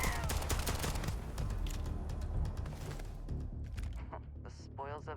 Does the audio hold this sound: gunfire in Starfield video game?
yes